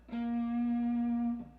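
One distorted electric guitar note from a song's solo, played at the 8th fret, rings out, held steady and loud for just over a second before cutting off.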